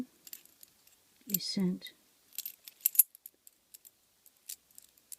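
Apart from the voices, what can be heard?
jangling keys for lockpicking practice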